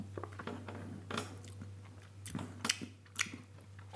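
Someone bites and chews a spoonful of homemade Cadbury Flake ice cream, with soft wet chewing and a few crisp crunchy bites close to the mic over a steady low hum; no one talks.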